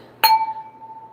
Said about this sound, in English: clink and drink